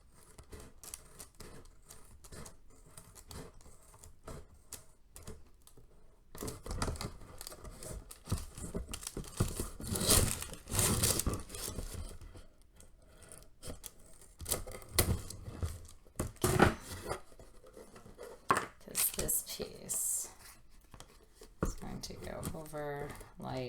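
Scissors snipping through a Worbla thermoplastic piece for a cosplay helmet, a series of crisp close cuts and crinkling handling noises spread across the stretch, with a person talking in between.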